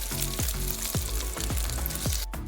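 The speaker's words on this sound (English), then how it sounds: "I'm going to fry the toast on each side until it turns golden brown" Egg-dipped bread topped with onions and green chilies fries in hot oil, giving a steady dense sizzle, with a few soft rhythmic thumps from the pan or spatula repeating about every half second.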